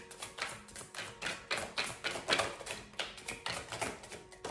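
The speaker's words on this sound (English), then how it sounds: "I'm going to be shuffling your tarot cards" Tarot cards are shuffled in rhythmic bursts, a dozen or so quick riffling clicks and flutters repeating at a steady pace, close and clear with no talking.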